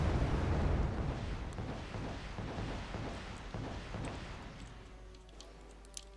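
Missiles exploding in the real-time strategy game Wargame Red Dragon, a dense rumbling barrage of overlapping blasts that rolls loudly at first, then thins into scattered pops and crackles as it fades.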